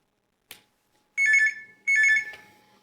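Telephone rings twice in short electronic trills, each burst about a third of a second long and loud and close, after a single faint tap.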